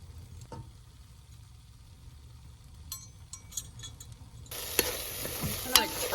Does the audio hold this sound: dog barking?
no